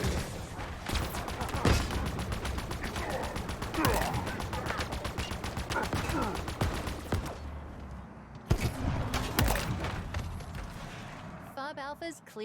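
Rapid automatic gunfire from Halo Infinite weapons, a dense rattling burst of close shots running for several seconds. A short gap follows, then more firing. Someone talks over parts of it.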